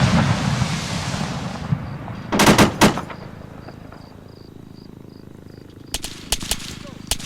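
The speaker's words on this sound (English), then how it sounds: "Oh, there's some heavy fire coming in here." Distant gunfire and impacts in the Arma 3 military shooter, heard as a loud burst of several rapid reports around the middle and a scattered cluster of shots near the end, over a steady rumbling, insect-like ambient background.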